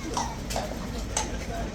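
New Horse Guards lifeguard horse hooves clip-clopping on pavement, a few sharp, uneven knocks at moderate distance, with people talking over them.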